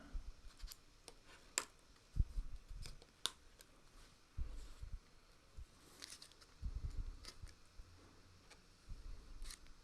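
Scissors cut out a shirt from fabric, with irregular quiet snips and clicks of the blades alongside soft rustling and handling, close and faint with no talking.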